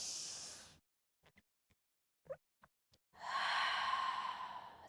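Deep breathing during a Pilates mat exercise: a long breathy exhale at the start, then near silence with a few soft sniffs and small breath sounds, and a strong sustained breath near the end.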